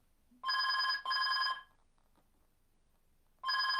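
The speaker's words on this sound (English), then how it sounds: "excuse my phone going off there in the background" A telephone rings in a room during a live broadcast: two loud, steady electronic trills close together, a pause, then a third trill starting.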